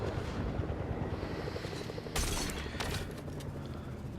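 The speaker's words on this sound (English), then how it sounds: "So I'm gonna shoot at his helicopter." A helicopter in the Fortnite video game whirs steadily with a dense rotor drone throughout, joined by a burst of gunfire partway through and mechanical clatter.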